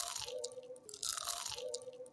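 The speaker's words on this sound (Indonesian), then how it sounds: "kita tes kriuk dulu ya guys." A crunchy Indonesian bakwan sayur vegetable fritter is bitten and chewed close up, giving a few crisp crackling crunches in quick succession.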